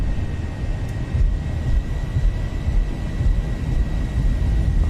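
Boeing 737 engines spooled to takeoff power in the X-Plane 11 flight simulator, a loud steady roar with low rumble and a thin whine, continuous and unbroken, no speech.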